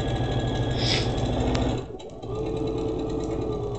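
A sewing machine runs steadily stitching fabric for a scrunchie, a close rapid mechanical chatter that pauses briefly near the middle before resuming at an even pace.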